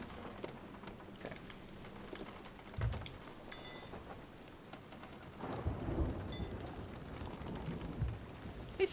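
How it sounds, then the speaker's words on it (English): A video game thunderstorm in a pirate sailing session: steady rain and rumbling thunder with a couple of louder low rolls, fairly close, no talking. "At least the storm's letting up."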